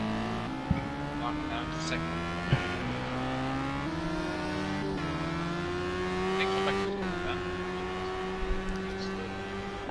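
Radical SR3 race cars roar around the Hockenheim circuit, engines droning and shifting pitch through a corner, with a few sharp clicks and gear changes and a commentator's voice faint underneath.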